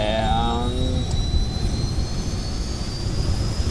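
A jet engine of an aircraft in Kerbal Space Program spools up into a loud, steady roar with a rising high whine, constant throughout and heard without speech.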